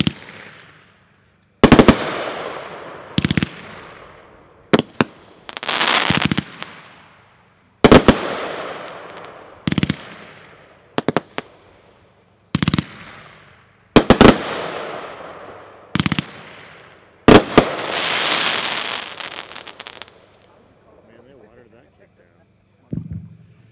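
Winda's Fat Lady, a 30-shot firework cake, fires a run of loud, sharp reports spaced a second or two apart, each trailing off in a crackling hiss, ending in a longer crackling burst.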